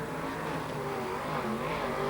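A V8 dirt modified race car roars past at close range, its engine a loud continuous snarl with shifting pitch as it speeds by on a dirt track.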